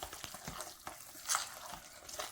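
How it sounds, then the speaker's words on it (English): A squash dressing mixture of squash, cornbread, celery and onion is stirred in a bowl, giving soft, continuous wet scraping and squelching with a few light clicks, faint and close. "let's do a little stirring right here, see what we think"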